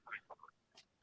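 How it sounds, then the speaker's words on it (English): Ducks quack in the distance behind a podcast conversation, a few faint, scattered calls with short gaps between them, and no speech in the gaps. "I keep on hearing like ducks or something in the background."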